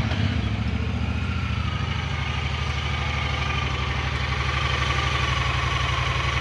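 A Honda Pioneer side-by-side's engine idles steadily and close by, a smooth, even mid-low drone that holds at a constant level throughout with no voices.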